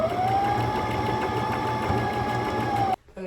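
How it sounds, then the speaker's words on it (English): A sewing machine stitches fabric panels for a fashion show garment in a fast, steady mechanical whir, loud and close, then stops abruptly near the end. "I'm sewing this the same way I did these, to where the seam sticks out"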